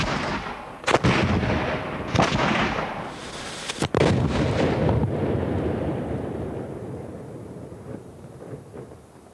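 A 19th-century cannon fires with a sharp booming blast, followed by two more heavy reports and a long rolling echo that fades away.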